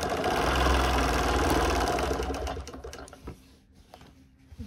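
A sewing machine stippling a quilted table runner whirs in a steady, loud mechanical hum, then slows into scattered, quieter bursts of stitching toward the end.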